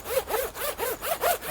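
A heavy-duty, YKK-sized zip on a Ridgeline Grizzly Euro jacket is run back and forth repeatedly, giving six or so rhythmic rasping strokes, close and moderately loud with no talking.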